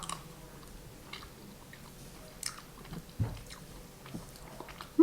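Someone chews a Brach's margarita-flavored jelly bean from the Late Night Taco Truck mix, soft close-up mastication with small sticky squishes and a louder bite near the end, no talking.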